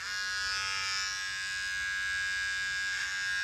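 An electric trimmer buzzes steadily while trimming a mustache, a close, continuous high whine that holds for a few seconds with no talking.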